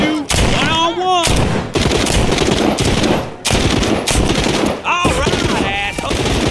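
Heavy, sustained automatic gunfire in The Walking Dead: Saints and Sinners roars almost without pause in close, loud bursts, broken by a few brief gaps where a voice shouts and yelps between volleys.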